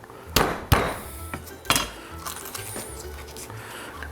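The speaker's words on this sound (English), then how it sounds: "I'm just going to crush them out a little bit and cut them into pieces" Garlic cloves crushed with a flat knife blade on a cutting board: a few sharp, close thumps and knocks, followed by quieter scattered clicks and taps.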